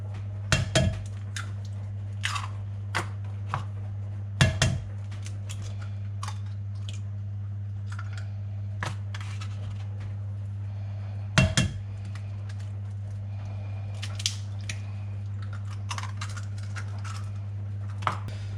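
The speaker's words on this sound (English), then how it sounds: "then I like to take a fork and just mix the eggs into the flour" A fork beats eggs into plain flour in a bowl for Yorkshire pudding batter, producing scattered light clinks and taps against the dish at irregular intervals, close but soft over a steady low electrical hum.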